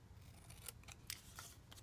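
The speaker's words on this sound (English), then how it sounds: "So take your paper snips and on a side just cut straight" Paper snips cut straight through paper, giving a few crisp, quiet snips spread across a short stretch, close-up with no talking.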